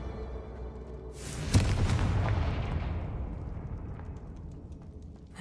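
Confringo spell explosion in the video game Hogwarts Legacy: one loud booming blast that swells quickly, then fades into a long rumbling decay over several seconds, with no voices.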